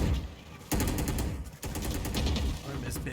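Rapid automatic gunfire in the video game Valorant during an esports tournament match, loud bursts of shots with brief gaps, under a caster's excited commentary.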